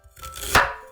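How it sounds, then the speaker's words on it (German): A knife roughly chops spring onion on a cutting board, one quick close crunchy cut with a short scraping build-up. "Lauchzwiebel grob schneiden."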